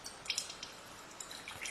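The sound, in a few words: water dripping from displaced water as rock is lowered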